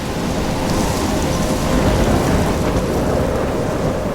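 Thunderstorm with heavy rain in the video game Life is Strange, a dense continuous downpour with a low rumbling roll of thunder underneath, loud and steady throughout with no talk.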